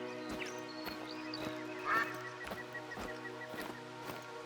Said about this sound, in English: That grey goose making that noise.